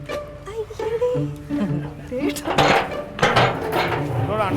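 Large metal cooking pots being lifted and set down in a home kitchen, giving a few loud clanking knocks and ringing scrapes that stand out over ongoing conversation.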